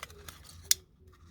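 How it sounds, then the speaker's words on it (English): A pair of scissors snips along a marked line, giving a few soft cuts and one sharp, crisp close snip near the end, in a quiet room with no talking. "Scissors in the left hand and cut along that line as best we can."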